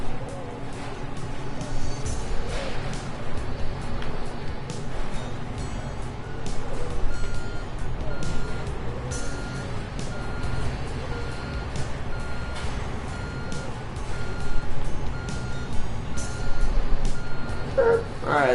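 Repeated reversing beeps from a truck in Construction Simulator 2, a steady evenly spaced alarm over a continuous engine rumble and occasional clunks, persisting for the whole stretch.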